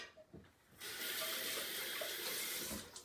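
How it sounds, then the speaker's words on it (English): Tap water runs steadily into a container for a Greek-style baked eggplant dish, starting after a short quiet moment with a few small clunks and flowing loud and close for about two seconds before easing off. "we are going to add more water"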